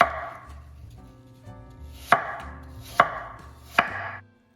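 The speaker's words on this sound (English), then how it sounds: "peel, core, and then slice them very thinly" A knife slicing peeled, cored apples thinly on a cutting board for apple pie, with soft cutting sounds and three sharp, evenly spaced knocks of the blade, close and alone.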